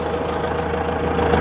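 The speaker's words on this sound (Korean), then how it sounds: "5분간 기다려서 왜 5분을 기다려야 하냐면 이 엔진 소리를 들어야 됩니다." A used forklift engine idles close by, a steady, even low rumble with a slight rhythmic throb and no voices.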